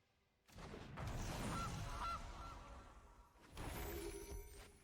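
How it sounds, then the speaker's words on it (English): A cartoonish goose honk effect from the Magic: The Gathering Arena card game, two loud brassy honking bursts in quick succession, separated by a short gap, playing alone. "Goose."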